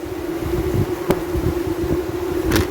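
Honey bees buzz in a dense, droning swarm at an open hive, a steady close hum that wavers slightly, with a few brief rustling knocks from handling near the frames.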